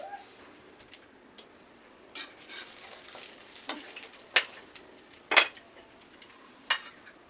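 An egg fries in a pan with a soft background sizzle, broken by sparse, sharp clinks and scrapes of a utensil against the pan that come and go irregularly.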